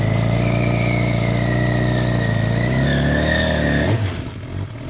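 Suzuki GSXR 750 motorcycle doing a burnout, its engine held at a loud steady high rev with a rising whine as the rear tire spins, then dropping off abruptly near the end, close and continuous.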